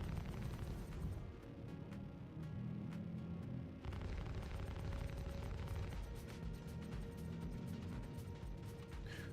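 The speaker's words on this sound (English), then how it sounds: "I'm shooting it to try and break it into smaller pieces" Ship cannons in Star Citizen pound a shieldless salvage hulk, a steady dense roar of rapid weapon fire and mechanical rattling that runs continuously, thick in the low end, with a brief dip partway through.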